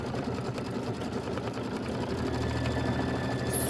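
An embroidery machine stitches out a quilting stitch on a Kimberbell chenille pineapple block, a steady fast mechanical whir and rattle running continuously at close range.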